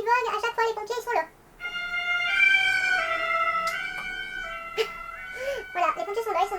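A fire engine siren wails in a long, steady two-tone sweep as it passes, loud and sustained between stretches of someone talking.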